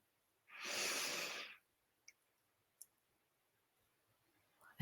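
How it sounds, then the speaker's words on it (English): One deep, slow breath drawn in close and clearly during seated meditation, lasting about a second, followed by a couple of faint clicks and near silence. "Breathe it in"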